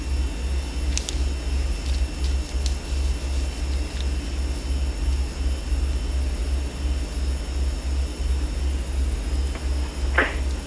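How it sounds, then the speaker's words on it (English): A Beech Duke twin-engine aircraft taxiing at Rockhampton in the FSX flight simulator, its engines a steady droning hum throughout, with small clicks scattered over the top. "Beech Duke is taxiing at Rockhampton for runway 15"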